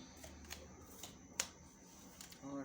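Tarot cards are laid out one by one, giving soft, faint taps and light slides spaced irregularly in a quiet room, with one sharper snap partway through.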